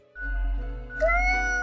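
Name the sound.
cat meowing in a video game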